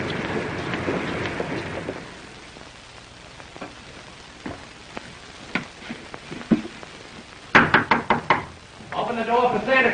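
A series of sharp knocks on a door, loud and close, arriving in quick clustered raps after a stretch of speech, with further talk resuming right afterward.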